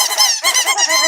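A squeaky toy gives a loud, bright series of squeaks, about three wavering pulses in quick succession, close and alone.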